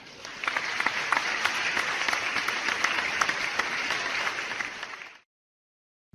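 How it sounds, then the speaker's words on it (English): Sustained applause from an audience at a nursing graduation candlelighting ceremony for a community college class, steady and fairly loud for about five seconds before cutting off abruptly into silence. "Please give our graduates a round of applause."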